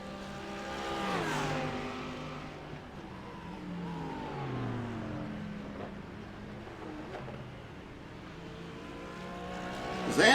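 GT3 race cars battle closely at The Glen in a racing game, engines revving up and down in rising and falling sweeps as they jostle through corners, a steady loud roar throughout with a sharp burst at the end.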